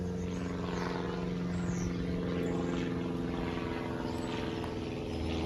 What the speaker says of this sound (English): there is a plane flying over at this very moment